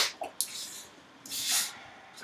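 A bottle of Harboe cola is opened, releasing short sharp hisses of escaping gas followed by a longer, softer fizzing swell, close and clear with no talking over it.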